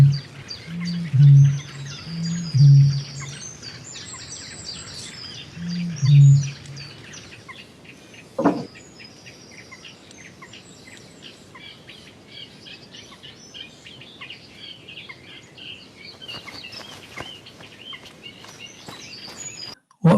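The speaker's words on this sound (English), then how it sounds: "the name of this instrument in Turkish, balaban, is also a name for a bird. Now we will see a short video of that bird." A balaban bird gives three deep, low hooting calls in the first few seconds. Quiet open-air ambience follows, broken by a single sharp click and some faint rustling.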